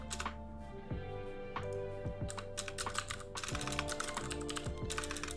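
Rapid clicking of a computer keyboard being typed on at a steady pace, close and fairly quiet, with irregular bursts of keystrokes over a soft background hum and no talking.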